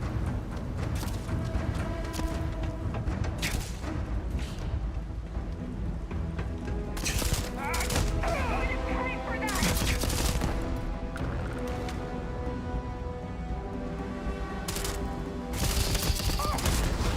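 Gunfire in the video game Starfield, with repeated sharp shots and bursts scattered over a steady background of game sound and music, some loud and close, no clear speech.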